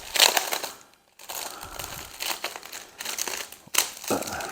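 A big envelope handled and opened, holding metal model-kit parts: bursts of loud paper crinkling and crumpling, broken by a brief silence near the start and another short pause before a final sharp rustle.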